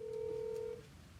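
A telephone call being dialed: one steady electronic tone sounds clearly for under a second, then cuts off, leaving quiet background hum.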